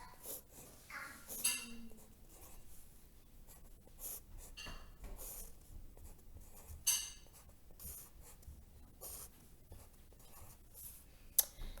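Pen or marker writing and drawing dollar bills on a page, light scratchy strokes in irregular bursts with occasional taps, close and quiet, with no talking.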